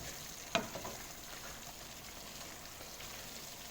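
Beef pie filling sizzles as it is stirred in a pan, with one sharp clack of the utensil against the pan near the start and then a steady soft frying hiss.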